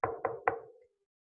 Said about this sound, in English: He knocked on Mouse's door.